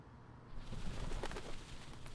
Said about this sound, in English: The doves of the Whitestone House are here.